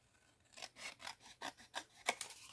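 Scissors cutting paper to make a small scrapbooking pouch: a quick run of about eight crisp, rasping snips, close by and fairly soft, with no voices.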